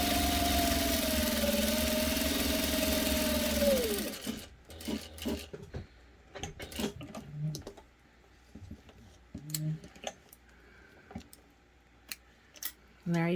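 A sewing machine stitches vinyl piping with a steady close whirring run for about four seconds, winding down abruptly, followed by scattered clicks, taps and handling of the fabric.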